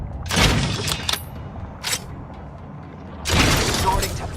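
Gunfire in The Outer Worlds 2 sounds as loud bursts of shots, one volley early, a brief crack mid-way and another burst near the end, over continuous game background noise.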